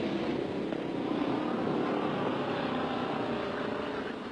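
Motorbike engine droning steadily and loudly throughout as the bike rides and slides, a continuous rough roar with no break and no talk.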